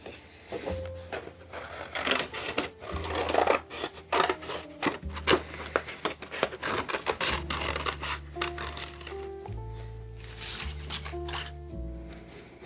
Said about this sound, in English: I'm going to cut some more smaller pieces